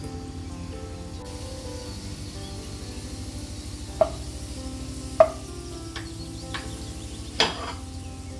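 Ingredients for moong dal payasam fry in a pan with a steady, even sizzle, broken by a few sharp clicks and taps of a utensil against the pan.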